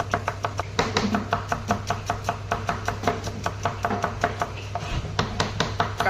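Onions being chopped on a board, a rapid, steady run of sharp knife taps close by, repeating evenly throughout over a low background hum.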